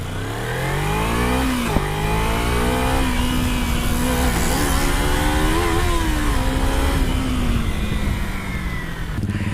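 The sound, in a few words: motorcycle engine accelerating on a ride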